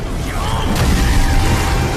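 A loud, dense roaring blast from a spear technique attack in an animated fight, a sustained wash of noise with a brief sharper burst midway, close and filling the whole moment.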